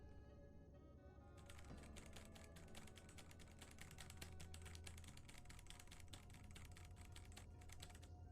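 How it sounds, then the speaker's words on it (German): Fast, continuous typing on a computer keyboard, with dense rapid clicks of keys close to the microphone. The burst starts abruptly after a short quiet stretch and continues steadily to the end. Low-level background hum sits underneath. "Tastatur."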